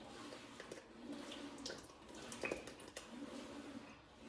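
Curdled milk pours into a well of fresh-milled flour for homemade biscuits, a faint, soft liquid trickle and splash with small irregular spatters, quiet and close, with no talking.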